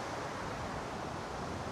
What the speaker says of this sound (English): But the crashing of water is always a fabulous sound.